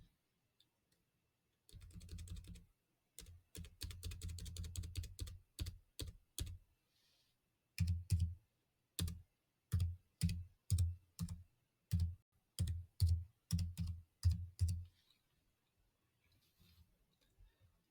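Keystrokes on a computer keyboard while entering a VS Code setting, a fast rattling burst of typing followed by a run of separate, evenly spaced key presses, close and crisp in a quiet room.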